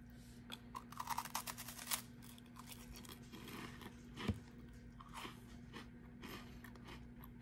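Quiet, close crunching bites and chewing of a strawberry cream wafer, two thin wafers sandwiching cream, with crisp snaps and soft mouth sounds, no talking.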